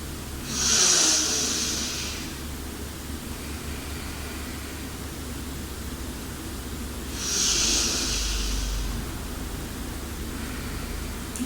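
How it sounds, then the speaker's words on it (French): Slow yogic breaths drawn through the right nostril, two long airy hissing passes several seconds apart over a quiet steady background, no talking. "Et respirez dans cette narine droite."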